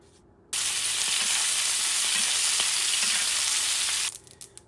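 Steak sizzling in hot oil in a pan, a loud steady hiss of frying that starts abruptly, holds evenly for a few seconds with faint pops, then drops away.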